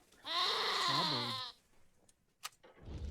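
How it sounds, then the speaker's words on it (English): A goat in the Wasteland 2 video game lets out one loud, wavering bleat lasting about a second, followed by quieter scattered clicks and rustling. "These goats are troubled."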